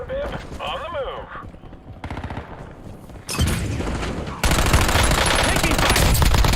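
Rapid automatic gunfire rattles through an intense video game, starting muffled under a voice and game sounds, then jumping to dense, loud bursts that fill the final seconds.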